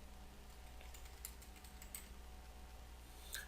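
Soft, quick keystrokes on a computer keyboard as a name is typed, faint and close, with a few sharper clicks scattered over a low steady room hum.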